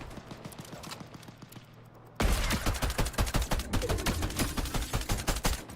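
Rapid gunfire in Fortnite: soft, distant-sounding shots at first, then a sudden loud, sustained volley of fast, evenly spaced bursts.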